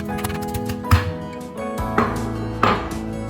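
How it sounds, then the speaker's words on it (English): Knife chopping ginger for chilli chicken, with a few sharp distinct chops over background kitchen sound and music. "Chop ginger and keep it aside."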